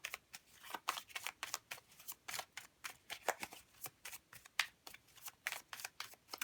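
Tarot cards being shuffled for a one-card pick-a-card reading, a steady run of quick papery riffles and flutters repeating close up and alone with no talk.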